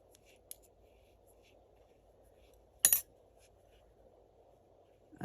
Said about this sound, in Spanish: con las tijeras sí se puede